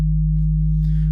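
A synth sine wave plays a D sharp an octave up, a pure sustained tone held steadily at full loudness for the entire stretch.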